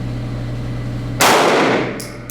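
A single sharp report from a Smith & Wesson M&P 2.0 9mm pistol fired at a target ten yards away on a range, a loud crack that decays quickly after a stretch of quiet hum.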